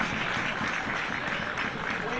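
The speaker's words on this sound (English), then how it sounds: "let's have another cheer for our players, please." A rugby crowd cheers and applauds its players in a steady, close wash of clapping and shouting that fills the whole moment.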